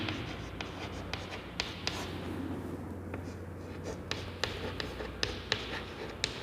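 Handwriting with scratchy strokes and sharp little taps in an irregular rhythm, quiet and close against a soft steady background hiss.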